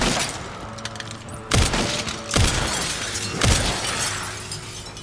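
Glass panes shatter in the Resident Evil video game, three sharp crashes about a second apart, each one trailed by tinkling shards over a low ambient drone.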